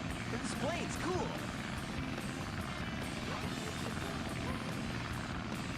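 A plane engine drones in the Sonic Adventure DX video game, a constant rumbling whir running steadily underneath, with a voice chattering briefly over it early on.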